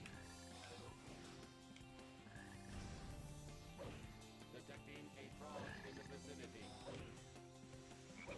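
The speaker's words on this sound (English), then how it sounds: "Detecting a frog in the vicinity." Frog croaking in the video game Sonic Heroes, repeated croaks blended into a busy, steady layer of game music and effects.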